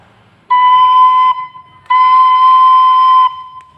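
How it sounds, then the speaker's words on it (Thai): Two long held C sharp notes from a Thai khlui flute, the second longer than the first, each steady and pure, played close with a brief pause between and no voices. "นี่ครับ นี่โดชาร์ป"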